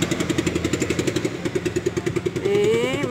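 A motorcycle cart used by street cleaning crews idles with a rapid, even putter, then revs briefly near the end; the engine sounds close and steady.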